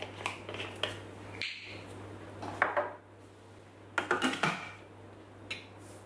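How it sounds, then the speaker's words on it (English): Lid clattering onto a Thermomix in a kitchen: several sharp plastic clicks and knocks in short clusters, close and clear over a steady low hum. "And now we're going to put the lid on."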